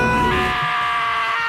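A loud, sustained scream rings out in the Danganronpa video game, a strained, high-pitched wail that holds steady for over a second before tapering, alone with no talk.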